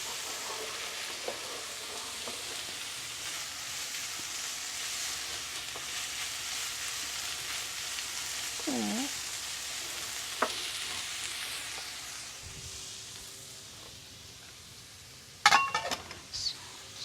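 Ginger, onions, green chili, garlic and curry leaves sauteing in a pan for beef cutlet, a steady low sizzle with occasional stirring clinks and a sharper utensil clatter near the end.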